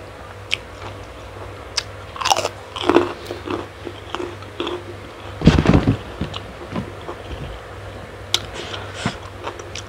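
Crunchy bites and chewing while eating Indonesian gado-gado, close and intermittent, with a few louder crunches over a steady low background hum.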